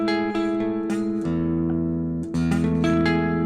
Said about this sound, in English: We could play the 9th fret of the G and B strings with those fingers.